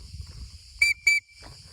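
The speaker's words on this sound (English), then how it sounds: "that's why I carry a whistle, my friends." Two sharp, shrill blasts of a hiker's safety whistle sound close and loud in quick succession, with a fainter third toot trailing after, against a quiet outdoor background.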